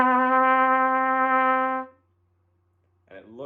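A trumpet sounds a single sustained note D, fingered with the first and third valves, held steady and clear for about two seconds before fading, followed by silence and a voice speaking.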